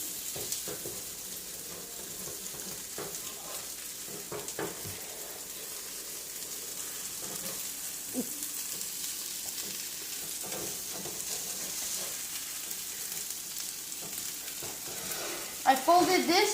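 Omelet frying and sizzling in a pan as it gets flipped, a steady broadband hiss with a few soft scrapes and bumps, ending in a louder clatter of the flip.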